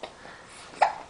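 A baby girl hiccups once, a short sharp catch near the end of a quiet, close stretch with faint squirming and soft breathing before it.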